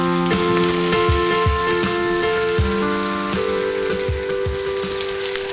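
Turkey schnitzel fries in a pan with a loud, steady crackling sizzle close by, dense popping of hot oil throughout and occasional soft knocks underneath, with no talking.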